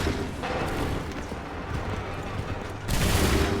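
Musket volleys crackle in an Assassin's Creed III battle, dense overlapping gunfire rumbling over a busy battlefield, with a fresh, louder burst near the end.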